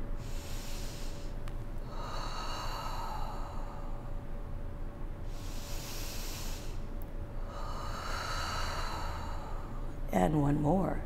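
Slow audible breaths during a Pilates reformer workout: two long hissing exhales separated by quieter stretches, with a steady hum underneath and a short voiced sound at the end.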